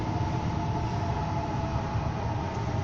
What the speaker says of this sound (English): And now we have a train stopping at Reesby.